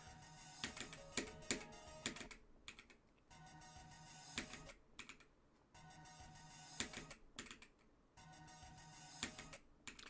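Rapid computer mouse clicking while playing Geometry Dash, dense bursts of sharp clicks arriving in clusters separated by brief pauses, close and fairly loud with no talking.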